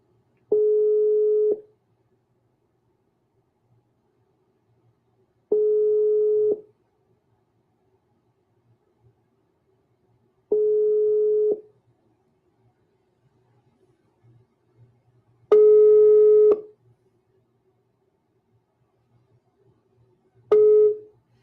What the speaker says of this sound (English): it's ringing on his side, but he's not picking up